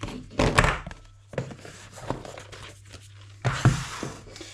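The cardboard box from a Tokyo Marui LCP 2 gas pistol being set aside, heard as a few close, hollow thunks and scrapes of cardboard against a surface, spaced out over a few seconds.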